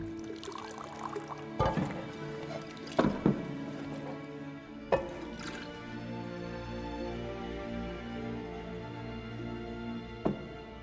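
A drink is poured in the video game The Witcher, with a soft liquid pour over a low ambient music bed and a few faint knocks and thuds.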